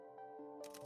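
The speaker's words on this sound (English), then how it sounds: "The camera erupted in a rapid fire burst. Shutter sounds mingling with a strobe-like flash" A camera shutter in the game Punishing Gray Raven fires off in a quick burst, clicking mechanically over a sustained tonal game backdrop before a brighter noisy flash at the end.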